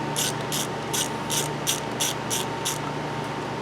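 Tamper-proof screw being backed out with a ratcheting tool on a Jeep Liberty with a no-start fault: eight quick, evenly spaced ratchet clicks, close and fairly loud over a steady hum.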